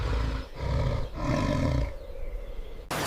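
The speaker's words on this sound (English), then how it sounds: "With the rival crushed, the beast roars out, declaring absolute rule over the frontier." A wild beast roars after defeating a rival, three long, deep, loud bellowing calls in succession, close and rough-edged, ending with a brief sharp noise.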